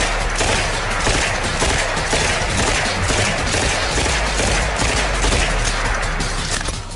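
An Uzi submachine gun firing full-auto bursts: a dense, loud, continuous rattle of rapid shots packed tightly together for the whole stretch, with no talking.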